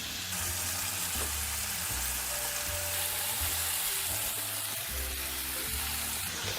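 Stuffed squid and vegetables sizzle steadily in a frying pan, with clinks and scrapes of stirring scattered through the continuous crackle and no voices.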